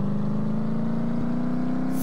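An engine revs during a power test run, holding a steady, loud droning hum with a slight rise in pitch, close and continuous and without speech.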